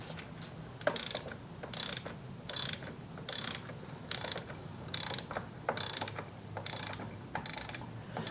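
A ratchet wrench tightens the rear axle on a Yamaha Super Tenere motorcycle, giving repeated bursts of rapid metallic clicking in a regular back-and-forth rhythm, close and distinct with no talk.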